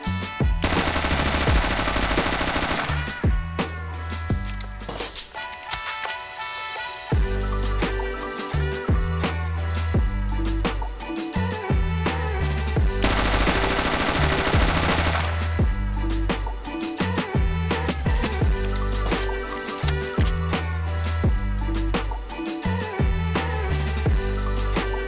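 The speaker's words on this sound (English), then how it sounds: "you can see my attempt at trying to control the MAC-10" Sustained full-auto MAC-10 fire in the video game Zero Hour: Operation Black Dawn, loud dense bursts filling most of the clip, with a brief lull near the middle before the rapid shots resume.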